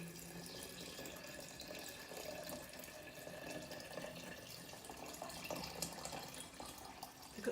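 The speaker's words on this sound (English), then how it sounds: "is pour water on top" Water poured steadily over fruit in a glass or jug for a drink, a continuous close splashing pour running the full length with no talk.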